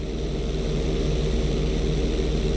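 Airplane engine droning steadily during a knife-edge maneuver in GTA V, a loud, continuous propeller hum with no voices over it.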